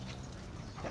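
Several dogs whimpering and yipping close by over a steady noisy background, continuous and fairly loud through the second.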